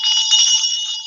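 A bright ringing bell sound effect for live chat viewers, a single sustained metallic tone with a shimmering tremolo, loud and close for about a second.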